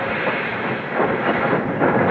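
A train rolls steadily with a broad rushing, rattling wash of wheels on track that swells slightly toward the end, staged as a radio drama effect at a station, with no voices.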